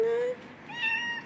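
A cat named Tiger meows on a street in Beersheba, Israel, giving a short high mew and then a second brief thin cry, faint and close, over quiet outdoor background.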